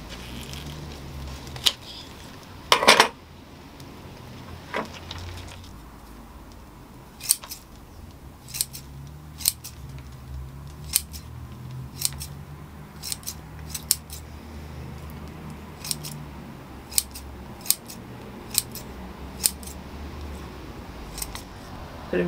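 Scissors trim the roots of a hornbeam bonsai during repotting, making sharp, crisp snips at irregular intervals with a few quick clusters. The cuts are close over a quiet background with soft handling rustles.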